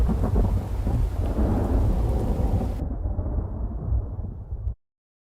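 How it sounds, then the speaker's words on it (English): A close lightning strike in the video game The Infected brings a loud, deep rumble of thunder over rain, sustained for several seconds before cutting off abruptly to silence. "that was a very close lightning strike."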